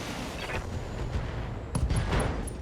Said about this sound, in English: Yeah, explosion.